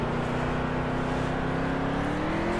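A race truck in the NASCAR Heat 3 video game accelerates out of the pit stop, its engine producing a steady loud drone that rises gradually in pitch, with no other sounds over it.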